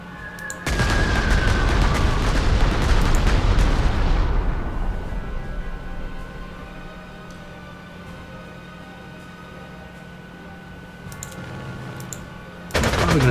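Artillery and machine-gun fire erupt in the World War II strategy game Panzer Corps 2. Dense, loud rapid bursts and booms fill the first seconds, then fade into a low lingering rumble before another sharp blast ends it.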